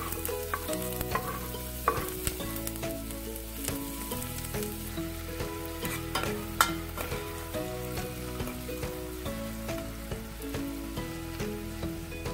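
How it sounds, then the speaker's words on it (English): Onion stir-frying in a pan for a Hong Kong style creamy corn soup, an even sizzle with frequent clacks and scrapes of the utensil against the pan, close and continuous with no speech. "So we're going to stir fry our onion"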